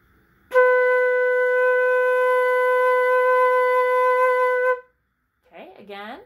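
A beginner flute holds a steady, sustained B note for about four seconds, clear and close, then stops abruptly; a voice speaks briefly afterward.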